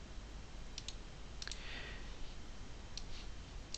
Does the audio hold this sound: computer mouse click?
yes